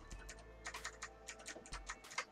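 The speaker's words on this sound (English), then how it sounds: "And I'm using the arrow keys to do this." Arrow keys on a computer keyboard are pressed in a quick irregular series of crisp clicks, close and fairly quiet, with no talking.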